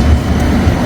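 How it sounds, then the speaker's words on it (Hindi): Tram passing along a street in Seville, a loud low rumbling drone with faint rail clatter, close and steady, no talk. "देखो ट्राम है यहाँ।"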